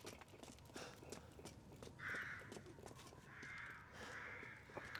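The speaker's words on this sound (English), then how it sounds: "A lot of crows nearby." Crows cawing in the video game Resident Evil Village, several harsh caws repeating at moderate distance over low rumbling ambience and scattered thuds like hooves or footsteps.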